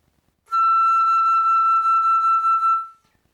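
A single high E note on the flute rings out clear and steady for a little over two seconds, alone, with a gentle tremble before it fades.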